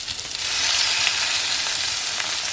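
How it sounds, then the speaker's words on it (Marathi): Eggs and khadas fish fry together in a pan. A loud, continuous sizzle starts up after a brief quieter moment and holds steady until the end. "तर ती अंडी पण इकडे बाजूला फ्राय करून घेऊ"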